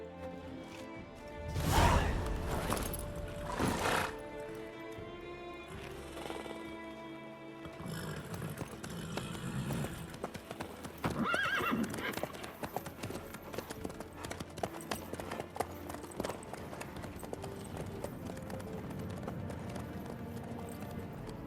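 Horse hooves clip-clop in The Witcher 3 game as a steady trotting rhythm, preceded by a neigh and loud whooshing sounds, with the game's ambience underneath.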